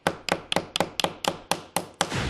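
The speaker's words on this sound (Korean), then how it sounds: "두꺼운 못 다시 한번 박아보겠습니다." Thick nail driven into a 3D-printed board with a hammer: about nine sharp, evenly spaced strikes, loud and close, each ringing briefly before the next, ending in a noisier clatter.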